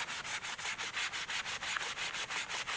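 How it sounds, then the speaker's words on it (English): A clean cloth rubs briskly back and forth over a leather holster in quick, even strokes, a soft rhythmic swishing heard alone and up close. "take a clean cloth, and I'm going to rub that"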